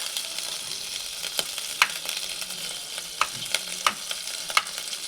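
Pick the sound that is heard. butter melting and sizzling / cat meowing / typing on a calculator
butter melting and sizzling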